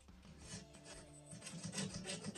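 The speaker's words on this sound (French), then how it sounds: "je gratte encore un peu" Paint being scraped in a corner, a quiet rhythmic rasping of a scraper rubbing back and forth in short repeated strokes, close and faint, with no talk.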